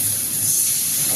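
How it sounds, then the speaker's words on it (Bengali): Ginger, cumin and garlic paste hits a hot pan and sizzles, giving a loud, steady, close hiss that holds for the whole moment. "তো আমি এবারে এতে আদা জিরে বাটাটা দিয়ে দেবো, রসুনটাও আছে এর মধ্যে"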